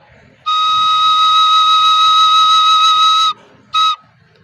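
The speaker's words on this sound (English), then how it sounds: "Now this one is called the high E flat or high D sharp." A recorder sounds a high E flat, one steady, bright, piercing held note of about three seconds. A short second blow follows, close and loud, with no talking.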